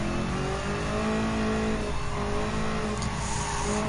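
A C5 Corvette racing in Gran Turismo 7 produces a loud, steady engine drone at sustained revs, with hints of tire squeal running through it and no voices.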